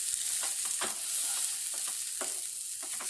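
Tomato and masala fry in an oil-filled kadai with a steady bright sizzle, while a spoon scrapes and stirs in irregular clicks and knocks, close up with no talking.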